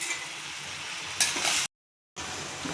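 Bottle gourd (lauki) cooks with spices in a pan, giving a steady sizzle and frying hiss with scraping stirs, a louder burst of sizzling, a brief silent cut, then the hiss resumes.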